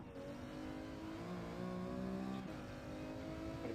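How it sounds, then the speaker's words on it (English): Race car engine in Gran Turismo 7 revving hard and holding high, a loud continuous harmonic drone with rising pitch, alone and close throughout. "I'm revving it up higher"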